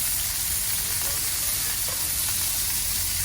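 Meat sizzles loudly on a hot griddle for a Philly cheese steak, a steady, dense frying hiss that holds at constant strength throughout.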